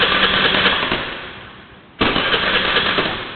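A car engine with its fuel pump socket disconnected cranks without catching, a fast rhythmic churning that fades out, pauses briefly, then starts again loud and close.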